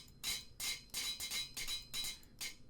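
A metal hammer in the GregTech New Horizons Minecraft modpack strikes five or six times at an even pace, sharp bright clanks standing alone without any voice.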